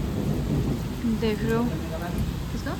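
Heavy rain pours steadily while thunder rumbles low and continuous through it, and a person talks briefly over the storm.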